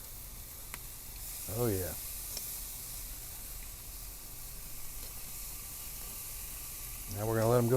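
Beef fajitas sizzle on a Kamado Joe grill, a steady broadband hiss running throughout with a faint clatter as the meat is flipped, while someone speaks briefly at the start and near the end.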